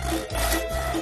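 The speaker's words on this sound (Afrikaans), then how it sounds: "Hulle het gesaag," Wood being sawn for ship building gives a close rhythmic rasping, strokes rising and falling in two or three back-and-forth pulls within about a second.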